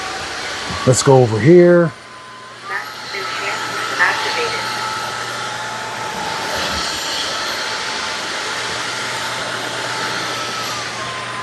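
A Narwal S20 Pro wet-dry floor vacuum starts up and runs with a steady whirring hum while cleaning a big stain, after a brief spoken remark.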